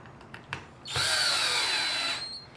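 Power drill driving a screw into a miniature cherry table: a couple of faint handling knocks, then a loud high whirring burst lasting over a second before winding down, close up with no talking.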